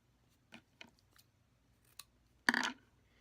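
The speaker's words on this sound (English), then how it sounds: "I'm going to take some felt and I'm going to cut a nice, pretty decently long strip" Scissors cutting a long strip of felt for a handmade hair clip: a few quiet, separate snips, then one longer, louder crunching cut near the end, close and with no talking.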